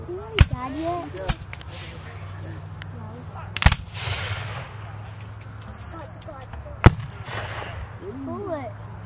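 Cannon and gun blasts at a Civil War battle re-enactment of Cloyd's Mountain in Dublin, Virginia: four sharp, booming reports spaced irregularly, ringing out over steady crowd murmur and shouted talk.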